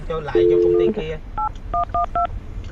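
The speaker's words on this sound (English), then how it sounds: "I'm gonna dial the phone over right now." A telephone being dialed: a long tone followed by a quick series of short beeping keypad tones, close and clear, with a voice briefly audible at the start.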